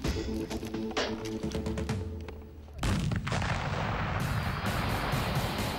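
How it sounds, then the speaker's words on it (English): A stick of dynamite set off with a jerry can full of petrol bursts in a heavy, booming blast with rolling rumble and crackle, a second loud wave hitting partway through and sustaining to the end. "take a stick of dynamite and a jerry can full of petrol"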